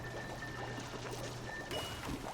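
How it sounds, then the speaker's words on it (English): Water draining in the game Oxygen Not Included, a steady pouring wash with a faint trickle, alone at an even level throughout with no talk. "We are going to drain this water out of here."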